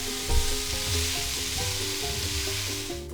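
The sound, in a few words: vegetables and onion sizzling in a soup pot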